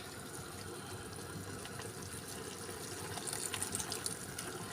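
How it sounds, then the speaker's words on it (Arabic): Water poured into a pot of cooking lentils, a soft steady rush and trickle that swells slightly near the end, fairly faint and without talk. "ممكن ازوده شوية مية تانية."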